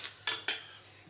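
Macaroni with real cheddar and butter being stirred in a pot gives two quick scraping clinks of a utensil against the metal, close and fairly quiet, with a softer scrape at the start.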